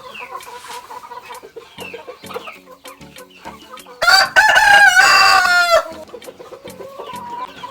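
Goliath breeder chickens in a henhouse on a poultry farm, with repeated nearby clucks and a loud drawn-out rooster crow in the middle, then more clucking, with little or no talk.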